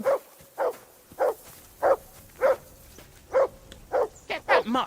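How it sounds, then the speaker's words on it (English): A dog in the video game Kingdom Come: Deliverance 2 barks in a steady rhythm, about nine sharp, evenly spaced barks that come close and loud, with a quicker flurry of yips at the end. "Call off that damn dog"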